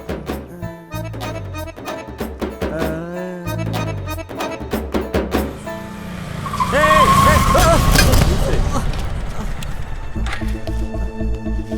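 A vehicle skids with squealing tyres, then crashes in a loud, sustained burst of noise, following stretches of voices and rhythmic sounds in a Tamil comedy scene.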